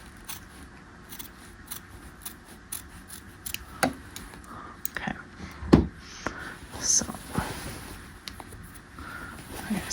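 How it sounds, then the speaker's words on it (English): Scissors snip through Melton wool fabric during tailoring of a half-scale jacket, giving a few soft close cuts and rustling mixed with quiet handling noise and someone speaking softly. "I need to cut my Melton down just a little bit more there as well"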